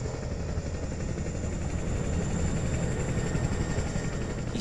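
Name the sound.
Chinook helicopter taking off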